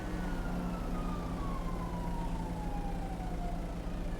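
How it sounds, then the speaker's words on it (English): A police siren in a GTA-style game wails loud and continuous, its tone sliding steadily downward over a constant engine-like hum, with no speech. "It does sound like we might have police presence coming to the scene now"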